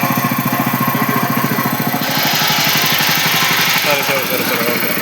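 A small power weeder's engine chugs steadily with a fast, even pulse, loud and close; speech is present in the background.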